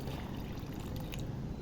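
Ordinary tap water, half a cup, pouring from a mug in a home kitchen, a short steady stream of liquid splashing close by with no voices.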